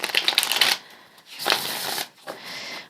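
Tarot cards are shuffled by hand in three quick, close, riffling bursts of papery flutter separated by short pauses.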